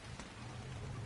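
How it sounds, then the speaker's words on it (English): Steady rain with a faint low rumble of thunder in the ARK survival game, a continuous wash of patter holding level and close throughout with no voices. "And Thunder."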